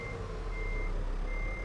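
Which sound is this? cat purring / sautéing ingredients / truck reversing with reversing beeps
truck reversing with reversing beeps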